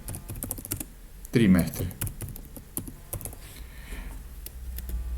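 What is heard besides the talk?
typing text into an Excel cell on a keyboard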